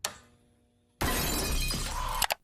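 Window glass smashed in a Halloween Kills horror movie scene: after a faint fading tone, a sudden loud crash of shattering glass bursts out and sprays for over a second before sharp final hits.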